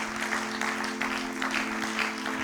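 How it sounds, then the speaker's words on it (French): A church congregation claps and cheers together in a dense, sustained burst of applause, with a steady tone ringing underneath throughout. "Acclamez pour la gloire de notre Dieu et de notre Seigneur."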